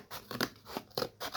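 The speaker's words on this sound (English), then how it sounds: "I'm literally going to cut out strips for the sides of the ladder" Scissors snip through strips of cardboard in quick crunchy cuts, several rapid close-up snips in a row for a cardboard treehouse ladder.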